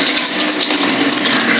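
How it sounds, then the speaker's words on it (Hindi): Water gushes into a new fully automatic top-load washing machine under strong pressure, a loud, steady hissing rush that stays close and unbroken throughout. "अब ये देखो इसमें से पानी जाएगा अंदर।"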